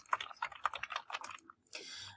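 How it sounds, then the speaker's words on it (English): Quick keystrokes clatter on a computer keyboard while a script is typed in RStudio, a brisk run of close taps followed by a short pause and a softer trailing rustle. "you can type whatever you want"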